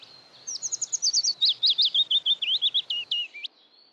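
A willow warbler delivers a loud, close song, a rapid cascade of sweet whistled notes running downward in pitch for about three seconds before stopping, with nothing else audible.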